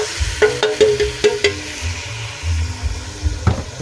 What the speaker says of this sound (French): Je vais ajouter la tomate écrasée.